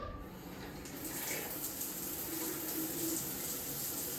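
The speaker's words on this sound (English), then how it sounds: "Hot water, back working, and no pulsating." Hot water runs steadily from a shower fitted with a Hudson Reed SC50 T20 thermostatic cartridge, a close, even hiss and rush without pulsing that continues for several seconds alone.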